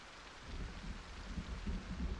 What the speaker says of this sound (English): this is now that the actual thunderstorm is starting